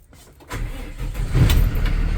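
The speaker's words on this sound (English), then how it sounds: "So I'm going to start my bus" A Thomas C2 conventional school bus engine cranks and catches, then settles into a loud, steady rumbling idle close by, with no one talking.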